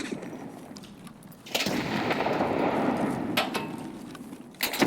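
A grenade goes off in the shooter game Escape from Tarkov as a sudden loud boom followed by a sustained rumbling roar, with a couple of sharp cracks near the end.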